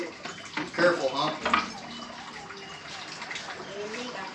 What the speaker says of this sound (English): I'm gonna take a shower.